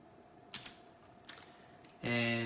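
Keys clack on a computer keyboard while an SQL join query is typed: a few separate taps early, then a louder, denser burst near the end, with no talking.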